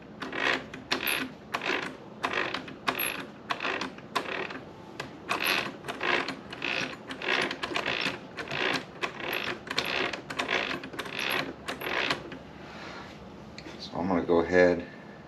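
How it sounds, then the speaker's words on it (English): Mechanical gear whine and clatter from the front differential of a Traxxas Xmaxx RC truck, suspected of a shimming problem, arriving as a rapid series of rhythmic grinding bursts up close, then ending in a brief louder rattle. "Really sounds like the front diff."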